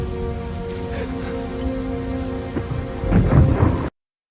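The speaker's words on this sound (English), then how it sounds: "he goes out into his backyard during a thunderstorm" A backyard thunderstorm: steady rain pours over low rumbling thunder, which swells into a louder close crack and roll near the end before the sound cuts off abruptly.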